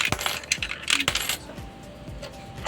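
Coins clink and drop in a quick irregular run of metallic hits into an Allan universal coin slot, close and clear, with no talk over them.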